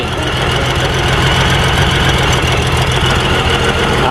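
A Honda Goldwing motorcycle engine running steadily after a stuck carburetor float was freed, a loud, close, even idle with a low rumbling pulse throughout.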